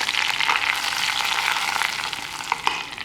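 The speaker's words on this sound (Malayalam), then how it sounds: "ഇതാ നമ്മുടെ ഉള്ളിക്ക് ബ്രൗൺ കളർ ആയിട്ട് ഞാൻ ഇതിലേക്ക് വീണ്ടും കുറച്ച് കറിവേപ്പിലയും കൂടി ഇടുകയാണ്" Curry leaves sizzle and crackle in hot oil with browned onions in a pan for an okra curry, a steady dense frying hiss with a few brief pops near the end, close and fairly loud.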